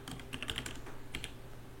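A computer keyboard clatters with a short burst of quick, light keystrokes, faint and close, with no voices.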